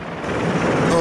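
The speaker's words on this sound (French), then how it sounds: "Vous entendez sûrement ce bruit, Maxime, assez assourdissant, des pales d'un hélicoptère." Blades of an Israeli military Yasur transport helicopter near a hospital in Tel Aviv: a loud, dense, rushing roar that swells steadily, with a faint chopping texture and no clear gaps.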